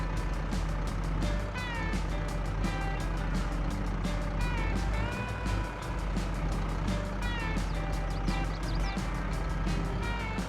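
Farming Simulator 22 truck hauling a trailer in reverse, with a steady engine drone and rhythmic reversing beeps repeating throughout, loud and continuous.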